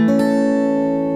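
Guitar harmonics ring at the 12th fret in a fingerstyle gospel blues setting: a couple of quick plucked attacks blend into a clear, bell-like sustained tone that fades slowly over about a second.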